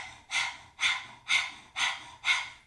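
Rapid rhythmic Breath of Fire from a Kundalini yoga practitioner: five sharp, forceful nasal exhalations in an even pulse roughly every half second, close and fairly loud, with no talking.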